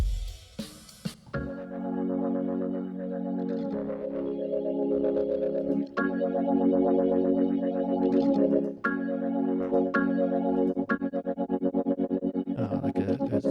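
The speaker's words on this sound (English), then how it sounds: "the sound is swirling around the head" A sustained distorted synth or bass tone run through a swirling stereo tremolo plugin, pulsing steadily and loudly with a rhythmic wobble and several shifts in pitch, with no voices.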